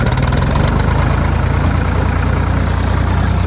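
A tractor engine runs steadily in fourth gear while bush hogging on a farm, a loud, close, even low rumble with a constant rhythmic throb.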